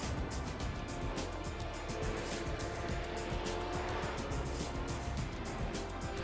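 Lionheart Sportscar Championship race cars drone past in a steady, dense engine roar at the Grand Prix of Le Mans, continuous and fairly loud with faint tire noise.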